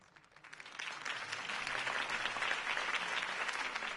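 Crowd applause erupts after a campaign speech in the Batman Telltale video game, rising quickly from quiet into a steady, dense clapping that holds for several seconds at moderate distance.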